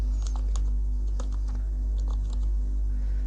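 Typing a sheet name on a computer keyboard while working in Microsoft Excel: a short run of quick, light key clicks at an uneven pace, heard close up over a steady low hum.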